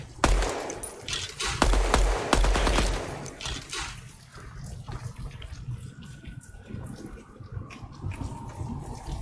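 Rapid gunfire at shooting targets in the video game Project Moon sounds as dense, loud volleys of shots in the first few seconds, then thins into scattered quieter shots and game ambience.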